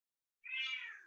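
A pet cat lets out a single drawn-out meow, clear and moderately close in an otherwise quiet room at home.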